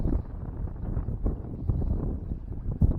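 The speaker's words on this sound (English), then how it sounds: "Man, this wind, guys, we're doing the best we can, but this wind is whooping our butts." Strong cold wind gusts across the microphone while fishing from a boat, a steady low rumbling buffet throughout with a heavier thump near the end, loud and close.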